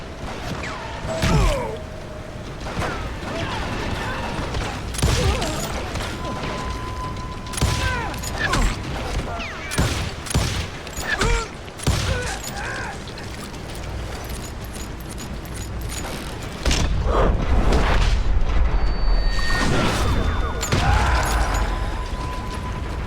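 Gunfire and explosions in the Western shooter Call of Juarez: Gunslinger: scattered sharp shots and bursts, with a heavier rumbling stretch near the end, over game ambience and mechanical clanks.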